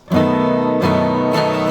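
A strummed guitar chord with an added F sharp rings out, struck again twice at a steady interval, each strum sustaining brightly and close up with no talking.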